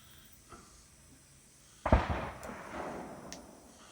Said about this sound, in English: Oh, they're shooting away from me.